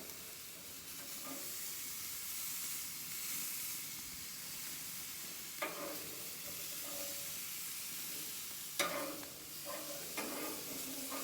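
Hamburger patties sizzle and hiss steadily in a hot pan, a continuous frying crackle with a few sharper clinks and scrapes of a utensil breaking through, no talk.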